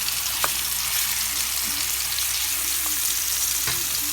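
Pork chops fry in a pan with a steady, bright sizzle close by, broken by a few faint utensil clicks as the meat is stirred. No one speaks.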